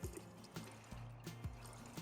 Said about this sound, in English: You mix it in a watering can